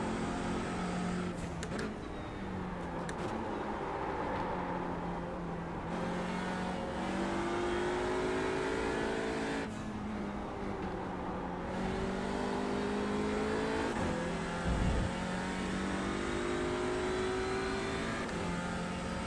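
A GT4 race car engine in the iRacing sim on a cold track, droning steadily with rising and falling pitch through gear changes, repeated upshift sweeps and a brief thump, heard alone without talk.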